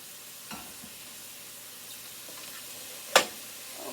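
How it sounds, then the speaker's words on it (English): Mushrooms frying in a pan, a soft steady sizzle with a few stirring scrapes and one sharp clack of a utensil near the end. "now we're letting these fry up"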